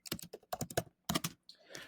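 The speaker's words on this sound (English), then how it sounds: "I'm going to just start typing, and I'm just going to say, hello, everyone." Keys on a computer keyboard clack in quick, close bursts of typing, separated by brief pauses.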